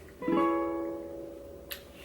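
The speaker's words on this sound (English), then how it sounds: "just like that, so your ukulele will sound like this." A single ukulele chord strummed once with a capo on the fourth fret and left ringing, its bright tone slowly fading, followed by a faint click near the end.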